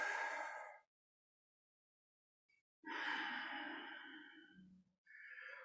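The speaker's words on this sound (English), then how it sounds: "Breath in and out" Breath drawn in and pushed out during a yoga class, two or three audible sighing exhalations separated by a stretch of silence, close and fairly soft.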